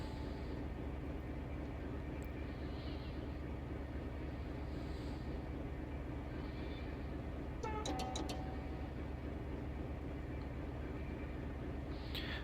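A Class 56 diesel locomotive in Train Simulator Classic rolling down a gentle gradient, a steady low engine drone and rail rumble with a brief metallic clatter midway, no talking.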